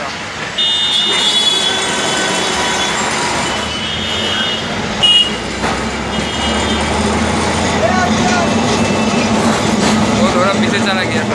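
Kolkata tram rumbling along street rails on College Street, a loud continuous low grinding roll with squealing and beeping tones amid busy city traffic noise, with people talking.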